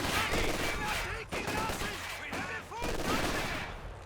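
Battle in Company of Heroes 2 rages with sniper shots cracking over bursts of double machine gun fire, a dense, continuous barrage of rapid reports and ricochet-like zips through the whole stretch.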